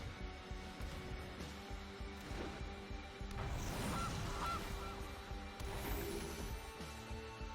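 A cartoonish goose honk sounds out in the MTG Arena card game, a brief squawk arriving midway through a backdrop of looping game music and soft effects, with no voices.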